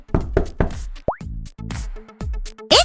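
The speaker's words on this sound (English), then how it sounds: "Cinderella was cleaning her stepfamily's house when she heard the knock on the" Several sharp knocks on a door in a short sequence, mixed with brief puppet-show sound effects and a rising whistle-like tone, fairly loud and close.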